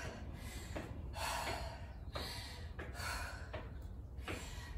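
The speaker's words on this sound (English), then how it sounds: "For my breathing to slow down" Heavy, rhythmic breathing from someone recovering after a set of reps in a Bobby Sox workout, a few loud gasping inhales and exhales close to the mic with no talking.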